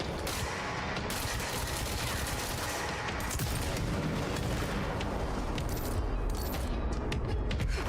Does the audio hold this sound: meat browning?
no